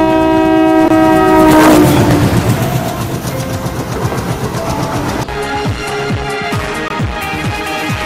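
An intercity passenger train running from Gulbarga to Secunderabad, its horn blaring loudly at first, then the steady rumble and rhythmic clatter of wheels over rail joints as the cars roll past close by.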